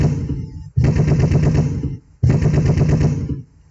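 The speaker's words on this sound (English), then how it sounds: "Wow. That was a lot of shots." Rapid automatic gunfire in two long sustained bursts with a short gap between them, loud and close, no voices over it.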